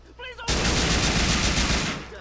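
Gunfire in Grand Theft Auto IV, a sudden, loud, sustained burst of rapid shots that begins right after someone speaks briefly and runs without a break to the end.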